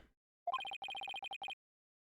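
A phone rings unanswered in the video game Ace Attorney Spirit of Justice, a faint electronic trill in two quick clusters of bright chirping pulses, then silence.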